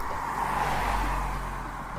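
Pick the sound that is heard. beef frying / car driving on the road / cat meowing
car driving on the road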